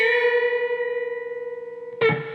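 An electric guitar note on the G string is bent up a full step and held with vibrato, ringing clean and sustained with a steady wavering pulse, then a fresh pick attack near the end.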